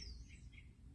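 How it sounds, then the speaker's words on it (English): Birds chirping outdoors in a quiet setting, a few short high calls faint and distant over a low background rumble. "You can hear the birds."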